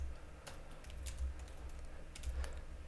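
Keyboard typing on a computer, a few quiet scattered keystroke clicks in small clusters over a low steady background hum, no voices.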